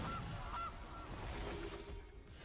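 A goose honks in a Magic: The Gathering Brawl game, a loud, close cartoonish honk that fills a brief moment with no talk over it.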